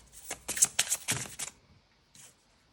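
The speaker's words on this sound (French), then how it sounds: "Prendre une deuxième carte." Tarot cards shuffled and drawn close up, a quick run of crisp riffling flicks and slaps for about a second and a half, then quiet with one short card slide.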